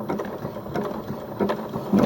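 A sewing machine stitches a zigzag appliqué on fabric, giving a steady close mechanical whirr with quick repeated needle ticks and no talk.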